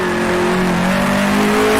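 A 1966 Formula One car in the Grand Prix Legends racing game roars at close range, a loud, steady engine note that holds, then rises slightly in pitch as the throttle opens at the end.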